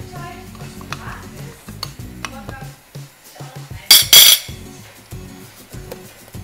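A utensil stirs baking powder into flour in a bowl for hazelnut-cream cookies, making soft scraping and clinking against the bowl, with a couple of brighter clinks midway, close and moderately loud.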